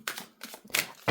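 Tarot cards are shuffled by hand in quick crisp bursts of riffling and slapping, four short clattering flurries close up with no voices over them.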